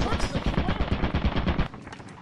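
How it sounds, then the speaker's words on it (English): A landmine blast in the video game Lethal Company rings out with loud, dense, crackling bursts. The sharp hits pile up for almost two seconds and then drop to a quieter rumble. "you stepped on a fucking landmine"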